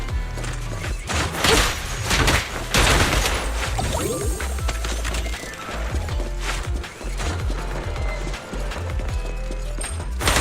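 Sustained gunfire from the video game Zenless Zone Zero, a loud, busy stream of repeated shots and impacts layered over game music and effects, with no pauses across the whole stretch.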